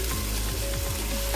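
Spices and vegetables frying in a pan, giving a steady, loud close sizzle with faint stirring scrapes running through it.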